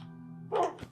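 A single short wolf bark from Minecraft, a brief yappy burst standing out over a steady low tonal hum, followed by a small soft thump.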